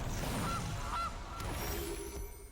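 A loud goose honk from the Magic: The Gathering Arena game, two short nasal honks standing over a dense, busy game soundscape, with no talking.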